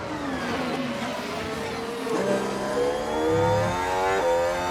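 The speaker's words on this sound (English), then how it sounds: "A little onboard of Lando going through the chicane." Simulated McLaren Formula 1 engine in F1 Manager 23, onboard through the Imola chicane: loud, steady whine that dips on braking, then climbs strongly as revs build on exit, with no talk.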